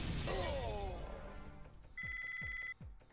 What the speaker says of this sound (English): the glass just, like, all made the same noise at the same time